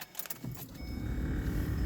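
Car engine cranking and catching in extreme sub-zero cold in Saskatoon, Canada, with a brief clatter at first and then a steady low rumble building to a continuous idle close by.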